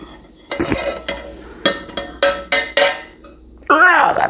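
Cooked potatoes scraped and spooned out of a metal pan into a bowl for a hamburger and potato casserole: a run of sharp clinks and scrapes, close and fairly loud, ending in a brief grunt of effort.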